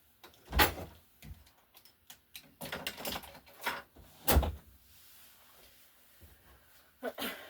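A drawer sliding open and shut in a craft room, with wooden knocks, rattling contents and scattered clunks at uneven intervals, close and fairly quiet.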